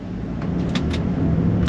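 A Bentley Bentayga EWB pulls away after being shifted into drive, a steady low engine rumble and road roar rising slightly, smooth and continuous inside the cabin.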